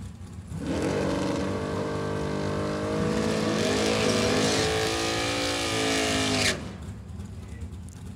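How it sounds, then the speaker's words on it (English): Two drag racing door cars launch side by side at a drag strip, a sudden roaring blast of high-revving engines climbing through gears for several seconds, loud and near, then cutting off abruptly into quieter background noise. "Couple of door cars are going to go side by side."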